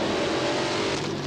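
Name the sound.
race car engine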